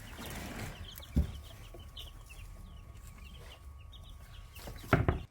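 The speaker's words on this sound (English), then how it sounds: "We have 40 chicks" Young chicks kept in a bin, soft clucking and peeping in the background with a couple of sharp thumps and a steady low hum.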